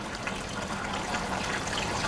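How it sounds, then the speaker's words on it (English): Spring water pours into a jug in a steady, full gushing stream, unbroken and fairly close for the whole two seconds. "You pour that in"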